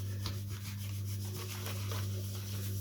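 Covering film is rubbed firmly onto a balsa model plane during a repair, a continuous scratchy rubbing close up over a steady low hum, with no talking.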